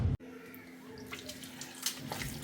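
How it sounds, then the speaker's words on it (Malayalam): Running water pours steadily over freshly cut colocasia (taro) pieces being washed for a Kerala-style curry, a continuous close splashing rush with small bursts and no talking. "ഇനി നന്നായി ഒന്ന് വൃത്തിയായി കഴുകി എടുക്കട്ടെ."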